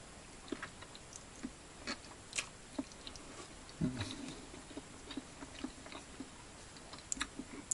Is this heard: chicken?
no